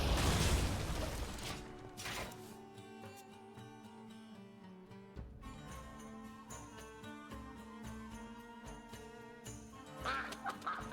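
Quacking from the Mother Duck card in the Hearthstone card game, short duck calls sounding over busy game music and mechanical clicking effects, with no talking.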